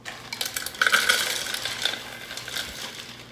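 Pretzels for salted caramel pretzel Linzer cookies rattle and clink into a bowl, a short cluster of crisp, close taps and scrapes with no talking.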